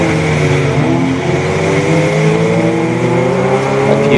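A race-prepared Audi TT with a 2-litre TFSI engine at Donington GP during an endurance race, its engine droning loud and steady, with gently shifting pitch and no voices.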